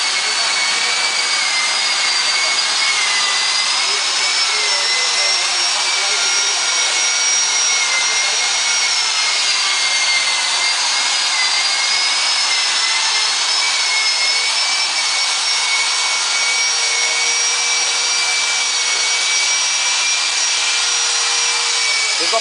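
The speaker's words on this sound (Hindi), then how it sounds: "तो ये लोग पॉलिश कर रहे हैं इसको।" Workers machine-polishing a stone fitting at a gurudwara, a continuous loud whirring grind with a wavering high whine that holds steady for the whole stretch, no talk.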